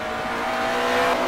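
Touring cars from the 1985 New Zealand Touring Car Championship racing at Teretonga, with a sustained, loud engine roar and a rising whine as a car passes close by, and no voices.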